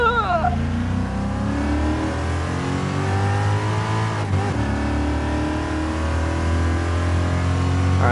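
A race car engine in GT Sport revs and accelerates through rising, falling gear changes, loud and close and running steadily through the whole stretch with a brief shift near the middle.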